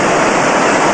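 Ocean waves crash against the shoreline of a private beach at Morgan's Rock, Nicaragua, forming a loud, continuous wash of surf with no gaps or voices.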